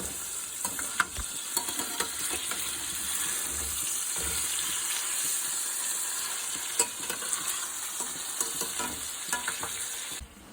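Beef patties seasoned on both sides fry in a hot pan, a steady close sizzle running throughout with scattered pops and spatters, no voices over it.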